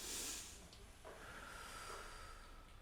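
A concert-hall audience at a student talent show breathes in deeply together, heard as a broad airy hiss that swells at the start and then settles into a fainter, steady rush, with no talking.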